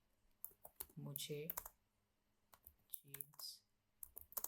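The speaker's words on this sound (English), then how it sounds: "Instead of typing it in English, I'll type it in Hindi." Clicky computer keyboard typing in irregular bursts of keystrokes, close and fairly quiet, with someone speaking briefly in between.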